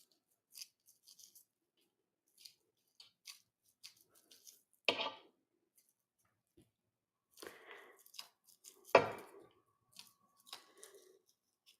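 A sharp knife chops through bacon on a board in a few scattered strokes, with soft slicing ticks and two louder, heavier chops, close and quiet with no one speaking.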